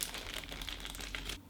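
A small plastic bag holding keyboard stabilizers from a budget AliExpress keyboard kit is crinkled and handled up close, giving a steady rustling crackle for over a second before stopping abruptly.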